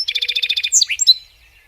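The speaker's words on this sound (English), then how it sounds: "Notice its introductory note. A lot of sparrows have an introductory note." A song sparrow sings close and clear, opening with a rapid series of about a dozen evenly spaced repeated notes, then a quick jumble of varied chirps and a trill fading out.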